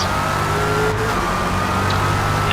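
A Dodge Charger SRT Hellcat makes a drag pass in Forza Motorsport, its engine a steady, loud drone at high revs. The note holds nearly constant for the short stretch, with no voices over it.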